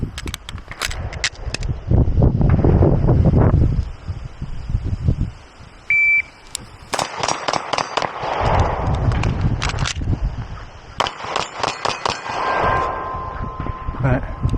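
Shots from a Beretta APX A1 Compact 9mm pistol fired quickly, sharp cracks in bursts with short gaps, loud and close, with a brief electronic beep partway through and ringing range noise between strings.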